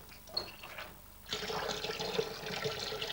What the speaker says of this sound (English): we'll first of all measure some water into the tub